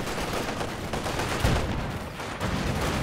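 Machine gun fire in Company of Heroes 2 rattles out in dense, continuous bursts, loud and close throughout, with no voices.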